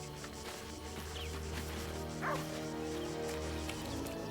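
Scratch, the dog companion in Baldur's Gate 3, gives a short bark and yip in the middle, over steady game music and ambience.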